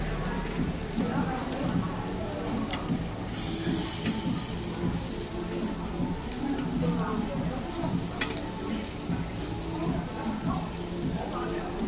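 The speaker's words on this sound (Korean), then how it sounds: "먼저 고기를 구워봅니다." Meat grilling indoors gives a loud, dense, continuous sizzle and crackle like steady rain, close and unbroken throughout, with a voice speaking over it.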